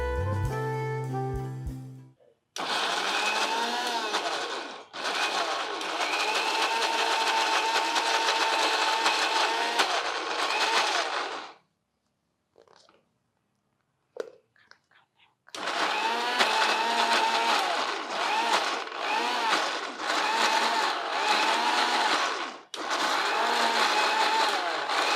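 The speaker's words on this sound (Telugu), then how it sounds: "కొంచెం చల్లారనిచ్చి గ్రైండ్ చేద్దాం. ముక్కలు చల్లారిపోయినాయి, మిక్సీలోకి వేసేది." A kitchen mixer grinder blends cooled, cooked carrot pieces into a creamy soup purée, roaring loudly in several long bursts with brief pauses and short pulses between runs.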